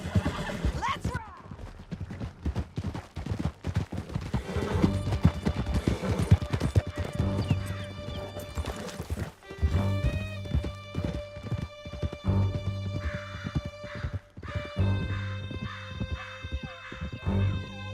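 Horses gallop with rapid clip-clop hooves and occasional neighs during a canyon escape in Red Dead Redemption 2, steady and close under game music and voices.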